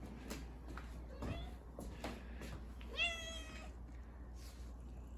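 A pet cat meows a few times close by, with one longer drawn-out meow near the middle, amid light household shuffling and faint background noise.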